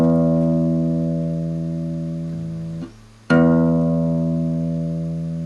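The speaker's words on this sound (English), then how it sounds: "We start with the thickest string here" Low E string of a guitar plucked for tuning, one sustained ringing note that briefly cuts out and is struck again, close and clear with no voice.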